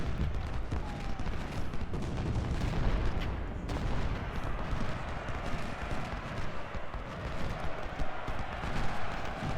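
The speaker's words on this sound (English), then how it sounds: "There's the canister fire." Continuous dense battle din in the Civil War strategy game Ultimate General: Civil War, with rumbling canister artillery fire and massed musketry blending into a heavy, unbroken roar at steady loudness.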